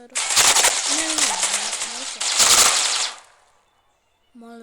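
Automatic gunfire in the shooter video game C-OPS rattles out in two loud, dense bursts, with a brief tonal voice-like sound under the first, before cutting to silence.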